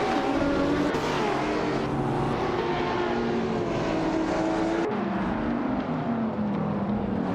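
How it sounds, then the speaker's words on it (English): Several race cars, including a 2014 McLaren 650S, rev and accelerate together at the start of a video game race at the Circuit de Pau, making a loud, continuous roar of layered engine notes that rise in pitch throughout. "the race just kicked off at the Circuit de Pau"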